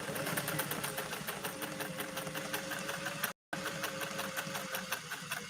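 A 1962 Singer 500A sewing machine runs steadily, stitching with a fast, even mechanical chatter at close range, broken by one short gap before carrying on.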